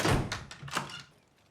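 A door shuts in a movie scene, a dull thunk followed by a softer knock and rattle that fades out quickly.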